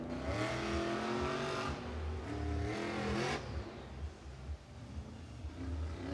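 Rage monster truck engine with a Turbo 400 transmission at a Monster Jam stadium show, loud rough revving in bursts that climb and drop, followed by a lower idling rumble.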